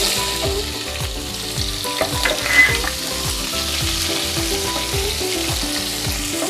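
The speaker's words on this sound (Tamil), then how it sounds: "கடுகு பொரியுது. இப்போ வெங்காயம் சேர்த்துக்கிறேன்." Mustard seeds pop and onion fries in hot oil while making kadamba sambar, a dense, steady sizzle dotted with sharp crackles and occasional stirring, close and loud throughout.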